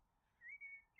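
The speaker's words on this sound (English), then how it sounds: "That's the parrot that makes that noise. The cockatoo." Cockatoo parrot call in the video game House Flipper: a thin, high whistle that rises then holds in two short bursts, faint against near silence.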